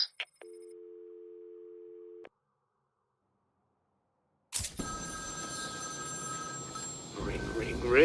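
A telephone ringing in Batman: Arkham City gives a long, steady two-tone electronic ring that cuts off abruptly, then a pause, then a burst of dense game ambience with tonal layers and low rumble.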